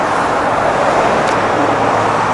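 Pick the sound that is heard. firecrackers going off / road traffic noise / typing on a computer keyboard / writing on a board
road traffic noise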